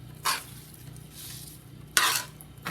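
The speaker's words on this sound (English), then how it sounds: "I'm going to add all our chopped greens into this pan" Chopped greens are stirred into a pan of sautéed mushrooms and cherry tomatoes for a veggie frittata, giving two or three distinct scraping, rustling stir strokes over a quiet background sizzle, with no talking.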